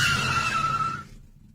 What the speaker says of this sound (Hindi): अचानक से इंजन में एक जोरदार आवाज के साथ टैक्सी बंद पड़ जाती है